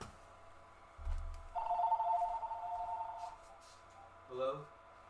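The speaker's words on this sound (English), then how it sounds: "I told you the phone was going to ring." A telephone rings in one warbling electronic burst lasting about two seconds, faint and slightly distant over a low background hum, with a brief tonal blip shortly after.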